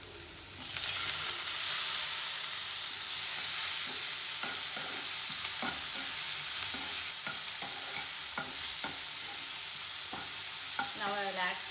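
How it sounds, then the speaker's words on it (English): Capsicum and finely chopped tomatoes frying in a pan, a loud continuous sizzle with repeated scraping and clicking of a spatula stirring through, no talk. "So at this stage we'll add some finely chopped tomatoes."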